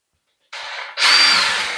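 A power drill bores a starter hole while a door is being fitted. It gives a short burst, pauses for a moment, then whines again more loudly and steadily at close range.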